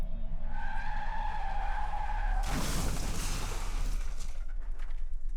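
A car skids with a loud tearing tire screech in a nighttime crash after a truck from the opposite lane runs a red light, following a steady engine drone, with no voices.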